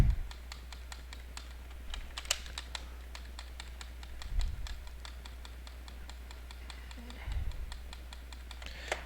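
Computer keyboard keys clatter in quick, uneven bursts of close clicks over a low electrical hum, with a few soft thumps or murmurs in between.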